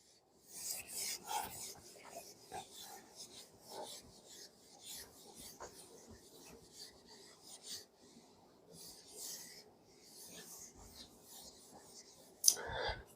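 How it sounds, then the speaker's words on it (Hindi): Writing is rubbed off a classroom board in repeated scratchy swipes, uneven in rhythm and soft to moderate in level. A sharper knock lands near the end, and there is no talk. "ये भी मिटा देता हूं, 2 और 3 नंबर। इसको रब कर दूं।"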